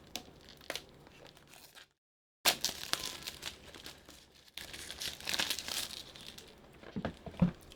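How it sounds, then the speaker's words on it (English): Partially opened Power Rangers toy packaging is torn and crinkled in bursts of close plastic and cardboard rustling, broken by a brief silent gap, then a longer louder stretch of ripping. "I'm just going to go ahead and tear through"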